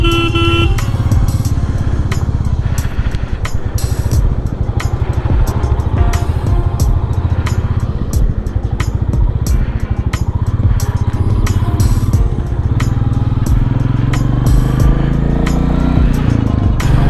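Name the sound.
motorcycle riding on the road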